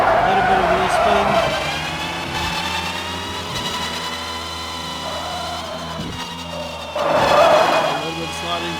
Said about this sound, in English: A little bit of wheel spin.